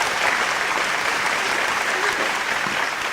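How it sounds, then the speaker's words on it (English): Audience at a talk on parenting gives steady, loud applause to welcome a speaker, a dense even patter of many hands clapping throughout. "let's give her a warm round of applause"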